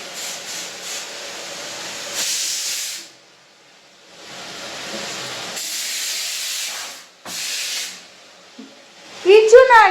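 Steam hisses from a pressure cooker's whistle in repeated strong bursts with short quiet gaps. A person talks briefly near the end.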